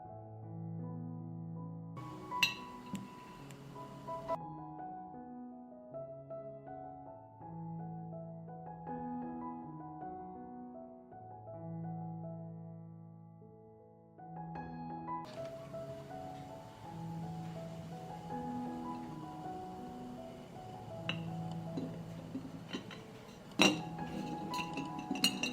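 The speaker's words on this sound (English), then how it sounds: "I put the eggs in the jar." Fresh eggs are set one by one into a glass jar, giving faint scattered clinks and taps of shell on glass. They sit under a steady background of soft music and are heard close up.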